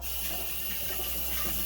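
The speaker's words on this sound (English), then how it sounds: "let me wash my hands real quick" Hands washed under a running kitchen tap during mead making, with a steady, loud, continuous rush of water close by and no talking.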